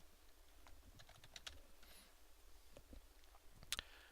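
Typing on a computer keyboard to enter a database table name, a quick run of soft, light key clicks with a brief louder flurry near the end, close and alone.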